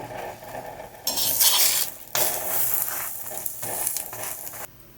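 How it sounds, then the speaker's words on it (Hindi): A chiroti rava masala aloo paratha fries in oil on a pan while being pressed down. Its steady close sizzle flares loudly after a quiet start, with brief clatters of utensil on pan and no talking. "अब इसके ऊपर भी मैं तेल लगाऊंगी और थोड़ा दबाते हुए पराठा सेकूंगी।"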